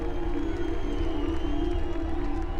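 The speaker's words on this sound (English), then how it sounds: "Crowds that used to cower under Ceausescu now feel free to jeer" A large crowd in Romania in 1989 jeering Ceausescu, a dense, sustained roar of many voices with a steady droning hum, loud and continuous throughout.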